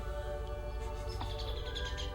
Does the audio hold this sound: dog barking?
no